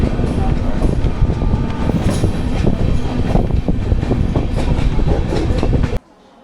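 Constant loud rumble and rattle of an Indian passenger train running toward Mathura Junction, heard from inside a general-class coach, with rhythmic wheel clatter throughout before cutting off abruptly near the end.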